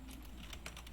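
A brief run of quick keystrokes on a computer keyboard, close but fairly soft, over a steady low hum, as a default router address is entered while configuring a DHCP server.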